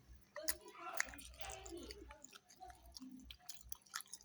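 Close, soft chewing and crunchy bites come from someone eating rice with a pounded eggplant dip, quiet mouth sounds in an uneven rhythm with faint murmured talk behind.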